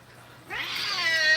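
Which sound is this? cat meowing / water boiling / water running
cat meowing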